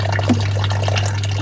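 A small solar-powered pond pump keeps running at dusk, its water trickling and splashing continuously over a steady low electrical hum, close by with no voices.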